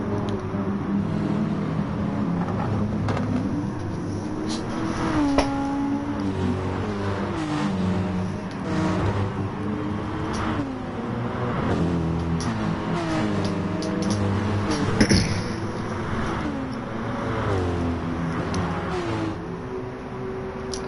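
Audi and BMW racing cars roar through Blue Moon Bay Infield A in Gran Turismo Sport, their engines whining and shifting pitch as they pass in a steady pack, loud and continuous.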